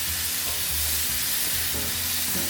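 London broil beef sizzling on a hot grill at 400 to 450 degrees, a dense steady frying hiss close up with faint clatter underneath and no talk.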